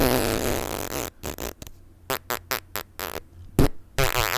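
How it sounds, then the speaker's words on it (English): A fart sound effect plays as a long, loud, sputtering blast that breaks into a string of short, choppy bursts and a final louder pop, with no speech over it. "Doo-doo fart."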